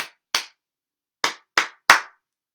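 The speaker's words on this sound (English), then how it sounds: "you're going to clap out that rhythm, leaving a little gap in between" Hands clap out the rhythm of the words lion and butterfly: two sharp claps, a pause, then three more quick claps, crisp and close with silence between.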